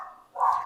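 Small angry puppy giving a single short, faint bark-like yelp after a brief whine, heard alone and fairly distant.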